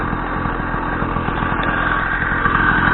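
Loud, close idle of a homemade motorbike engine, a steady chugging rumble with even rapid firing pulses that keeps running without pause.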